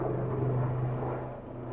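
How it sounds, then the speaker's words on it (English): A helicopter passing overhead, a steady low rotor rumble with a faint pulsing texture that holds at moderate level throughout. "There's a helicopter going on above us right now"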